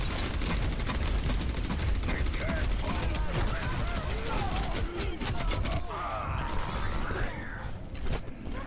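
Dense, continuous gunfire in an Overwatch match, with rapid overlapping shots and mechanical clatter filling the whole stretch, loud and busy.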